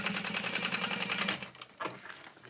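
A sewing machine stitches a seam on a small fabric bag, running in a fast steady whir for over a second, then stopping, followed by a brief clunk and shuffling of the fabric.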